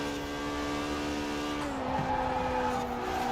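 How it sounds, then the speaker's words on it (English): Tires scrubbing for traction on a Lamborghini Huracan Performante in Forza Horizon 4, a steady loud engine drone with a rising squeal layered over it as the car corners hard. "Just hear the tires scrubbing for traction"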